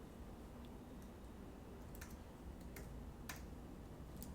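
Sparse, quiet clicks of typing on a computer keyboard, a few isolated keystrokes over a steady background hiss.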